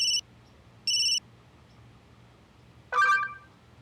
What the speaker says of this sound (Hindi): अनीश का वीडियो कॉल अचानक?